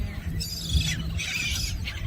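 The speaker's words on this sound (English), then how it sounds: "We're just gonna feed the seagulls" Seagulls being fed call out repeatedly, a cluster of sharp high squawks and cries rising and falling over a low rumble of wind or engine noise, fairly close and overlapping.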